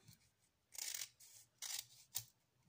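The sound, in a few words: scissors cutting off excess material on a craft drum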